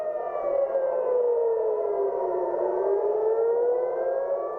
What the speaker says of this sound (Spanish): las sirenas no faltaron en Israel